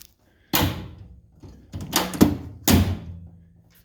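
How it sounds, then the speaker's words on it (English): A Jeep YJ door shuts with a solid thunk, followed by further rattling thuds and a second firm slam, close and loud in a quiet space. "So with the door closed"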